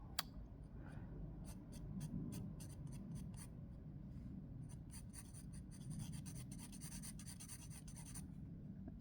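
A pencil scratches steadily across paper in a sketchbook while drawing a line, a quiet, close scraping with repeated fine strokes over low room noise.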